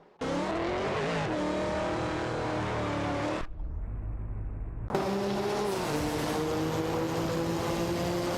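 Race car engines in an AI racing video game scream at high revs with rising and falling pitch as gears shift, cutting out briefly to a low rumble before another loud car passage resumes.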